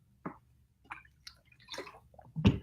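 A person drinks water in a quiet room, with a few soft separate swallows and wet mouth sounds ending in a louder gulp.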